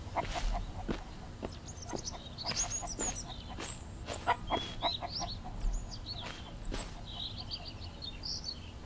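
Chickens clucking in the survival video game Mist Survival, a scatter of short clucks and chirpy calls at moderate distance over a low steady background.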